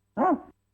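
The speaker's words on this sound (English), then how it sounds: "G flat, dog bark." One sampled dog bark, pitched to G flat, sounds from a Casio SK-5 sampling keyboard, a single short, close, clear woof with silence around it.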